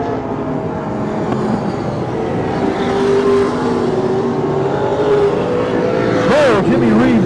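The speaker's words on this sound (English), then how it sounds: "we got the racers out here going fast tonight" Stock cars race on a dirt track at the Hanford, California Dirt Nationals, engines droning steadily with a rising whine near the end, while a commentator talks over the noise throughout.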